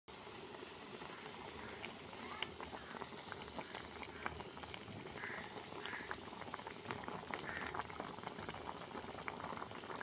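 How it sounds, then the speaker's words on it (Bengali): Mustard curry broth with bhola fish comes to a rolling boil in a pan, a steady dense bubbling and popping that runs unbroken at moderate loudness and stays close, with no voices. "ঝোল ফুটে উঠেছে, এবার আমি এক এক করে মাছগুলো দিয়ে দেব।"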